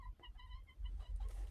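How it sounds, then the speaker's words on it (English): Chickens clucking in short, repeated bursts close by, over low rumbling background noise, with no talk. "I'm going to show you the birds"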